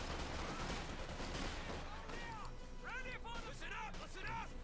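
Thompson submachine gun fire in the Company of Heroes 2 video game, dense crackling bursts of gunfire layered with battle noise and whistling effects, continuous and loud, with talk over it.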